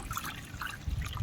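Water poured and mixed into a liquid vermicompost fertilizer, a soft close trickle and dribble of liquid running steadily for a moment with no talking.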